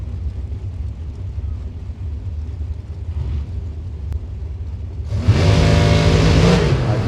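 A Miller drag race car at the Gainesville track revs up, then launches into a loud, sudden roar that holds for a couple of seconds before fading, after a stretch of low rumbling idle.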